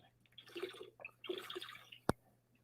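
Someone takes a few quiet gulps of water with soft swallowing and mouth sounds, then sets a cup or bottle down with a single sharp clink, all close and faint.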